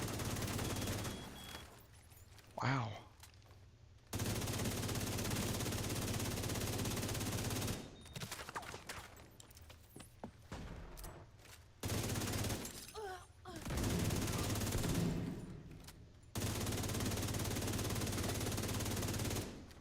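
Video game gunfire in The Division 2, with long loud bursts of rapid automatic fire separated by short quieter gaps and a brief spoken exclamation.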